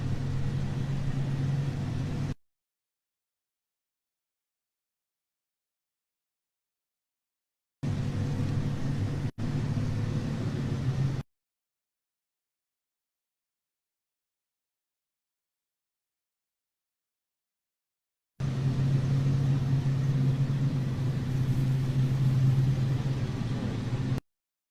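A multi-purpose ZIL truck carrying the Pechora missile system rolls past in a military parade, its engine a steady mid-pitched drone heard in three separate stretches, broken by silent gaps.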